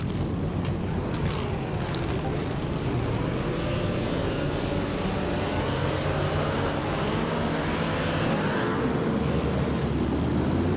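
A race car engine in a 1949 Czechoslovak Grand Prix racing simulator drones steadily at high revs, a continuous loud roar with a slight rise in pitch and no break throughout.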